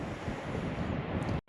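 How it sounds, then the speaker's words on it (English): Strong southwesterly wind buffets the microphone on an open stretch of the North Somerset coast at Lilstock, a loud continuous rumbling roar with faint surf behind it, cutting off abruptly at the very end. "Got quite a strong southwesterly wind, so feeling it here out in the open a little bit."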